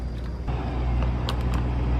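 A rebuilt McLaren sports car on a test drive, its steady low engine and road rumble droning continuously from inside the cabin, with a few brief faint ticks and clicks over the top.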